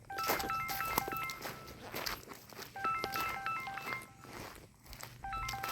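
A phone rings with an incoming call on a mango farm, bursts of bright electronic ringtone melody repeating in three clusters, fairly faint against outdoor background noise.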